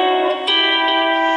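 A lap steel guitar note C played at the eighth fret, a bright sustained tone with rich overtones that shifts slightly in pitch early on and then rings steadily and loudly, alone.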